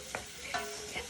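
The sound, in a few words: onions sauteing in a pan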